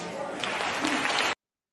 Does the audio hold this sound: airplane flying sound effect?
no